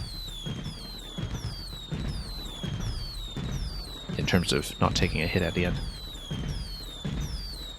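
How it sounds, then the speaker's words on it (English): Fireworks burst in a short cluster at the end of a Super Mario Maker level, crackling pops over repeating game music while someone talks throughout. "we'll just launch a couple of fireworks"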